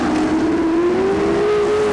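Race cars roaring around a dirt track, a loud, steady engine drone with a single rising pitch as the pack holds speed down the backstretch.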